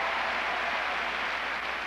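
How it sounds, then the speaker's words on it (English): A large crowd at a figure skating event roars and cheers in a steady, broad wash of noise that holds at an even level throughout, with no talking over it. "And now the crowd is cheering."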